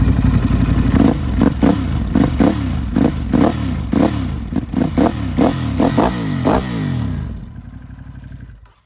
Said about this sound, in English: I can go ahead and give you some blips